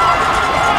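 A loud crowd roars and cheers throughout at a Darcy Stadium college football game, a dense, continuous wash of many voices close around the listener.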